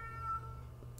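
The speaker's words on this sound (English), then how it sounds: "My cat won't shut up." A pet cat lets out a single short, faint meow indoors, heard over a low background hum.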